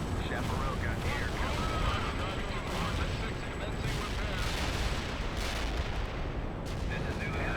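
An artillery barrage and gunfire in World in Conflict keep up a continuous rumble of shell blasts and shots, with a voice talking over the din.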